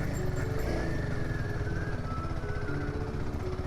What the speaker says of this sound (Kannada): ಫಸ್ಟ್ ಗೇರಲ್ಲೇ ಓಡಿಸೋಣ, ಯಾಕಂದರೆ ಸ್ಟಾಲ್ ಆಗ್ಬೋದು ಗಾಡಿ.